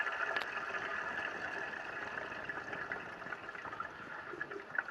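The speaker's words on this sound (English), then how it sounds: "You can hear the pump running." A float-switch pump on an off-grid teak boat runs steadily, with a faint, continuous wash of flowing water and no talking.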